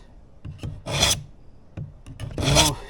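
A kitchen knife is drawn across a sand tile in two long, loud rasping strokes, each grinding pass swelling and fading, with a few small scraping taps between them.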